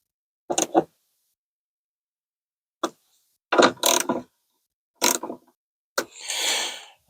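Plastic fasteners on a 2015 Nissan Rogue tail light assembly are turned down by hand, giving a few short, close ratcheting clicks and creaks in separate bursts with pauses between them, ending in a longer scraping rasp.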